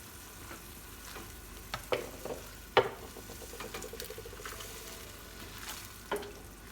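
Chicken and chili stir-fried in a pan, soft steady sizzling broken by occasional scrapes and clacks of a utensil against the pan, fairly quiet and close with no voices.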